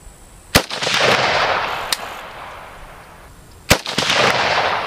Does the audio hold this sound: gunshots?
yes